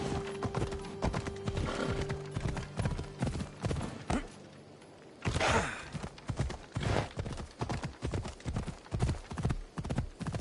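A horse gallops in Assassin's Creed Odyssey with rapid, close hoofbeats in a steady rhythm, a whinny near the start and a snort or breathy blow partway through, all loud and with no talk.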